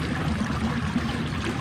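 Steady broadband rush of creek water flowing continuously, moderately loud and close, with no voices.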